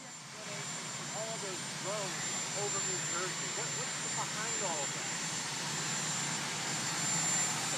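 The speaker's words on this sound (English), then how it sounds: "He is next to a plane or a helicopter, so it's a little choppy, literally." A plane or helicopter engine drones steadily behind a choppy phone call, a voice talking over the continuous mechanical roar throughout.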